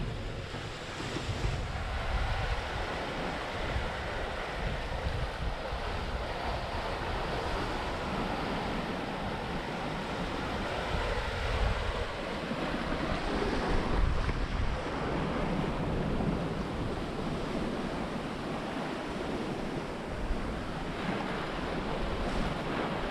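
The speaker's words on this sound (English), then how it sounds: "We've got a bit of a swell coming up in the passage between Croker Island and Coburg Peninsula" Heavy ocean swell and surging waves around a boat under way in the passage between Croker Island and Coburg Peninsula, a steady broadband wash with wind buffeting the microphone throughout and no voices.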